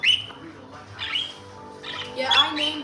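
Budgies, one a large blue bird among six, chirp and squawk in a series of bright, close calls. Some rise sharply and others overlap, over a low background hum.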